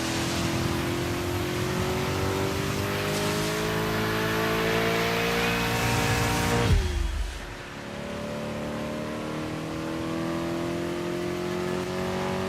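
Race car engines in the Dirt 5 video game roar loud and close, holding high revs, then drop sharply with a downshift and settle into a steady lower drone, with no voices.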